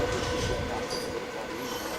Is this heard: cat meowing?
no